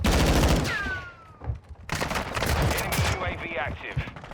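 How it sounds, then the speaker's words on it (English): Rapid bursts of Fennec 45 submachine gun fire in Modern Warfare 2 crackle loud and close, with short pauses between volleys and a brief whistling tone mixed in. "We're missing every shot"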